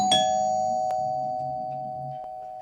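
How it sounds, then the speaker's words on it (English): A Eufy S330 video doorbell chime sounds right after the button is pressed: a clear, sustained electronic bell tone with a bright strike at the start and softer repeated accents, ringing steadily and close by with no talking. "Starting off with the doorbell button push."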